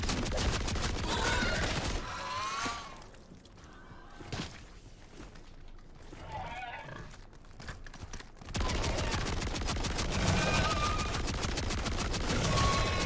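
Rapid automatic gunfire rattles loud and close in MW3 Zombies, with sustained bursts at the start and end and a quieter gap of scattered shots and game noise in the middle.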